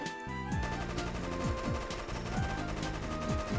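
Rapid SMG fire in the Roblox game Town, a sustained stream of loud, evenly spaced shots running nearly without pause over a low mechanical drone, with no talking.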